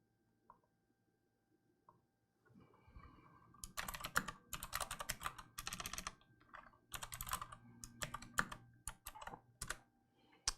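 Typing on an RK Royal Kludge typewriter-style mechanical gaming keyboard: sparse single clicks at first, then dense bursts of clacky keystrokes with short pauses, close and fairly loud, no talking.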